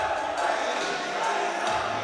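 A noisy crowd fills volleyball gym bleachers during the fourth set of a college conference match, a steady roar of voices and shouts with a few sharp squeaks and pings.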